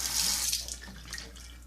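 Tap water running steadily from a faucet to wet combed-back hair, a continuous hissing splash at moderate level, no speech.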